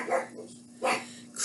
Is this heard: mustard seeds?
no